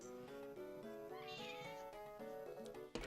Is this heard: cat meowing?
yes